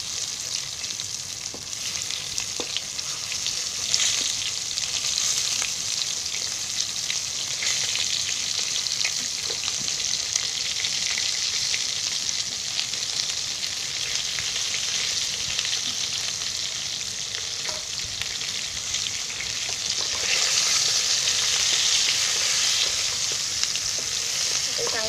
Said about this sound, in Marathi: आता तेलात टाकल्यावर आहे ना ते चांगले हलवून घ्यायचे